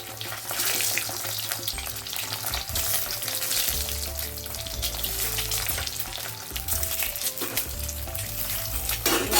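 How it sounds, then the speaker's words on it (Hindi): Eggs dropped one by one into well-heated oil in a pan, frying with a steady, loud sizzle throughout, no talking over it. "अभी हम अंडा एक एक करके ऐसा छोड़ देते हैं, देखिए फ्राई करके ले लेते हैं अंडे को।"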